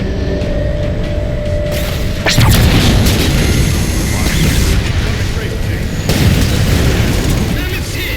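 Explosions strike the Mammoth vehicle in the Halo 4 video game, loud booms at about two and six seconds over continuous roaring battle noise and rumble.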